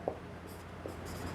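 During a geography lecture on map projections, chalk or a marker scratches on a board in faint, brief strokes over a steady room hum, with no talking.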